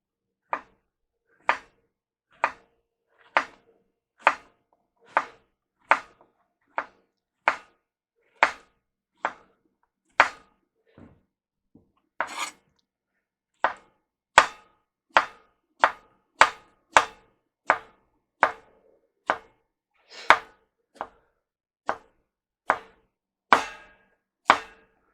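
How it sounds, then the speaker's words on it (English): A knife chops squash on a cutting board in a steady series of sharp, close thwacks, roughly one per second, with a short irregular pause midway before the regular rhythm resumes. "I'm going to chop up these squash real quick."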